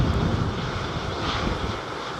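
Airliner with flaps fully extended touching down at London Heathrow Airport, a steady broadband engine roar with wind rush holding level throughout the short stretch.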